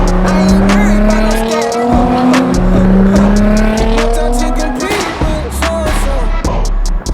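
Twin-turbo VR38DETT engine of a Nissan R35 GTR Black Edition, loud and close, revving hard in repeated rising sweeps with tire squeal and skidding, and brief clicks and crackles.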